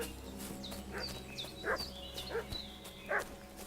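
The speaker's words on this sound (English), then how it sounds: "What's that dog making such a fuss about?" A dog in Kingdom Come: Deliverance II makes several short, fairly faint yelps and barks at uneven intervals, set against a quiet ambient background with occasional birdlike chirps.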